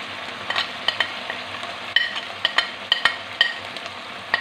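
Spices sizzle in hot oil for a boneless mutton karahi while a utensil stirs the pan, giving a continuous close frying hiss broken by regular scraping clinks.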